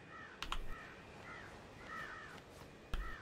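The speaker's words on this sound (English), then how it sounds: "Is this guy squawking and making a bunch of noise?" A guest in the Planet Coaster theme park game squawks in repeated crow-like caws over a low ambient bed, with a few sharp clicks in between.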